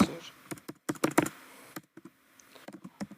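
Keys on a computer keyboard clatter in irregular bursts of quick taps with short pauses between them, heard close and alone.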